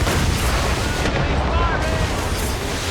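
Ship cannons firing during a naval battle in Assassin's Creed Rogue Remastered: dense, loud, continuous booming barrage under shouting voices, with a short dip partway through.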